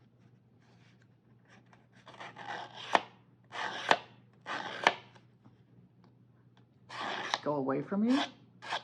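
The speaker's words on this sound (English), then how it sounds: "you take your scissors. If you want to distress the edge of a paper" Scissors scrape repeatedly along the edge of a sheet of paper to rough it up, giving several short rasping strokes close by, with someone talking quietly between them.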